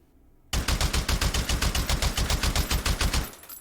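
A suppressed Madsen LAR rifle in the VR shooting game H3VR fires a rapid burst of about twenty muffled shots in an even rhythm, starting abruptly and ending with a brief tail.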